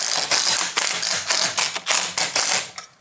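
A ratchet driving nuts onto studs during a custom Yamaha Raptor 660 build, clicking in rapid, loud, continuous bursts with short breaks between strokes.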